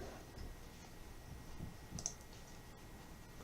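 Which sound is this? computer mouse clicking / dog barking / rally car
computer mouse clicking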